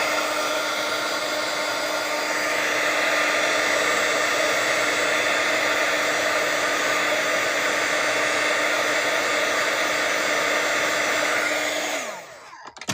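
A hair dryer runs loud and steady on silver watercolor paint for about twelve seconds, its pitch rising slightly partway through, then cuts off abruptly near the end.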